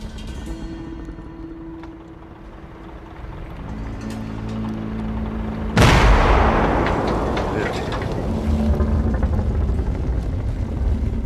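Heavy artillery barrage on a winter battlefield, a dull rumble that swells into a loud, sustained roar of blasts and thunder, with a low drone underneath.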